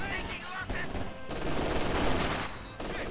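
G43 rifles open fire in a WWII strategy game, a dense sustained fusillade of overlapping gunshots that swells and rolls on for several seconds, with talk over it.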